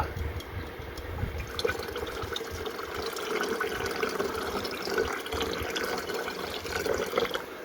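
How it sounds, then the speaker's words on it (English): Nitric acid poured into warm distilled water, a steady close trickle of liquid with faint drips and splashing running continuously throughout. "we're going to add a little bit of nitric acid"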